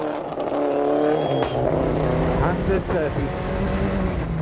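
A Nissan Sunny GTIR rally car drives a Safari Rally stage in Kenya, its engine revving up and down through gear changes close by, with tyres scrabbling and a voice calling pace notes over the motor.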